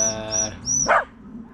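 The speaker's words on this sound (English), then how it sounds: "Oh, dogs are going mad here. Dogs are going mad." Dogs barking nearby with short, sharp barks among bright bird chirps repeating in a steady rhythm, one loud bark standing out before the sound fades.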